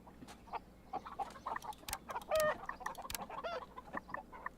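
Laying hens in the Farm Manager World game cluck and crow in a busy, overlapping stream of short calls over a steady faint background hum, with several louder squawks standing out.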